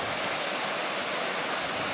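Overflow water from Lac de Saliens in the Aubrac of northern Lozère cascades down in a steady, loud, unbroken rush of white water, close by and with no voices over it.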